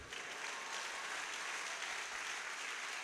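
Sustained applause from a comedy show audience, a dense, steady wash of clapping that holds at an even level throughout with no breaks.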